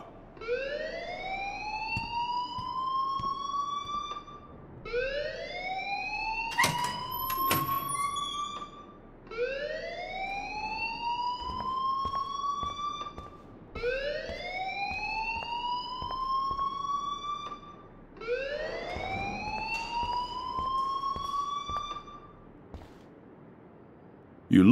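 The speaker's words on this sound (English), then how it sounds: "please turn off that alarm since that's your job" Fire alarm in the Life is Strange video game: a rising, whooping siren tone repeating in five long sweeps with short gaps between, loud and steady, with a brief clatter partway through and no talking.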